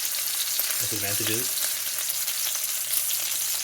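Chicken browning in hot oil, a continuous bright crackle and sizzle filling the pan, steady and close, with a brief spoken word partway through.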